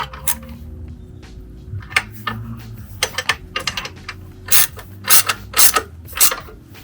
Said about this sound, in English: then the rest of the way you can just ratchet it down